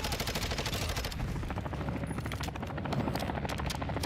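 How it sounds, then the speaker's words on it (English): A helicopter's rotor thumps steadily through a loud battle in the Call of Duty Black Ops 6 game, mixed with dense machine-gun fire and chaotic explosions, no voices. "I'm pushing the chopper."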